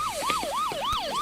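A police siren wails in a steady rising-and-falling sweep, about four cycles in quick succession, loud and close on a Philippine street at night, with no voices over it.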